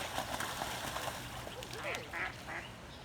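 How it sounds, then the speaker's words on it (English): Ducks squabble and quack near a goose nesting area on a morning walk, with a few short, raspy calls rising over steady outdoor background noise and some low talk. "oh, duck fight, duck fight."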